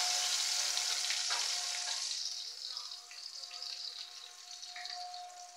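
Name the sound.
onions frying in hot oil tempering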